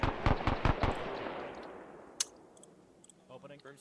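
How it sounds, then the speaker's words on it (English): A machine gun in the Arma 3 military video game fires a rapid burst of sharp, loud shots, then fades into a long decaying echo with a single distant crack and faint chatter behind. "Got that machine gun firing."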